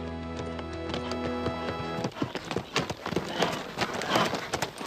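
Horses ridden by a rancher and his foremen across rolling ranch land of a fighting-bull farm, with hooves thudding and clopping irregularly and close by after a brief stretch of music.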